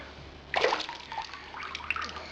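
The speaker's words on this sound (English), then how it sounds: "I'll run some more water into that in a minute" Tap water splashes and sloshes into a brewing pot being rinsed, starting abruptly with a bright gush and then running on more quietly nearby.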